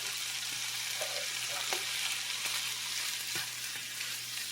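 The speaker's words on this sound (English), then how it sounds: "I'm going to dump in these here mushrooms" Already-cooked mushrooms hit a hot pan alongside leftover chicken kabob fixings and konjac rice, giving a steady close sizzle with a few light stirring knocks and scrapes, and no voices.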